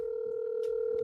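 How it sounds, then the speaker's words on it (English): Outgoing call on a phone with a steady electronic ringback tone held throughout, with faint background noise and a brief hiss near the end. "All right, 216, answer your phone, bro. I'm calling you."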